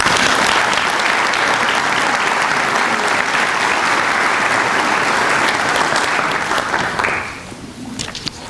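Sustained, loud audience applause welcomes a speaker to the podium at a spring master's hooding ceremony, dense clapping that holds steady for about seven seconds before tapering off.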